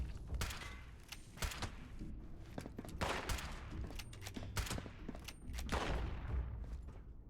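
Gunfire in Fallout 76 erupts in sharp, close shots, some single and some in quick bursts, spread unevenly through the stretch with thuds and mechanical clicks between them.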